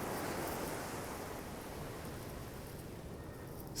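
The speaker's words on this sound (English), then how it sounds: "the sound of the waves crashing against the shore" Steady broadband wash of ocean surf breaking on a shore, continuous and fairly even with a slight swell at the very end, no voices present.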